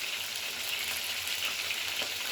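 Ginger, garlic and onion fry in oil with turmeric for a fish head curry, giving a steady, even sizzle with a soft crackle that runs unbroken throughout, with no talking.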